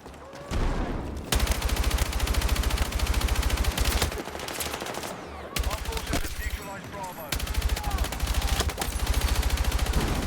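Rapid automatic gunfire down a hallway in the shooter Battlefield 6, long loud bursts of shots broken by brief pauses, with occasional talk mixed in.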